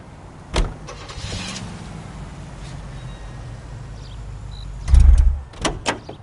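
Car in the L.A. Noire game: a door thud, then a steady low engine idle and faint mechanical whir, with a heavy thump and rumble near the end followed by a couple of smaller knocks, no talking.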